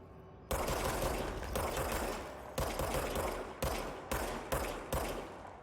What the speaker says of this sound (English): Oh, I'm shooting that wall.